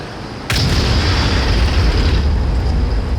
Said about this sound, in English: I'm pretty sure the artillery did something, and bang